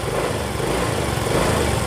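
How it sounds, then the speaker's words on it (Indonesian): A repaired motorcycle engine runs steadily and loudly up close, a dense continuous mechanical drone with no talk over it. "Sekarang kita cobain dulu kontak motornya, cobain dulu ya."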